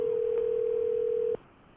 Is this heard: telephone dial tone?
yes